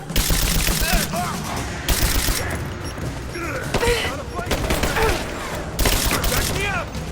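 Rifle gunfire in the Rise of the Tomb Raider video game: repeated bursts of shots across the clip, loud and close, mixed with game effects and shouted voices.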